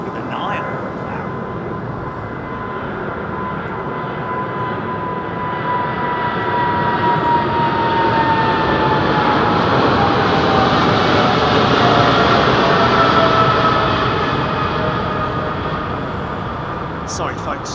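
Boeing 777 jet at London Heathrow Airport, a broad steady engine roar that swells toward the middle and eases off, with a faint voice partly over it.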